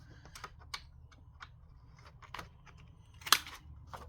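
Corner rounder punching the edges of a large paper journaling card, a few scattered faint clicks and rustles with one sharp snap near the end, quiet and close, no talk.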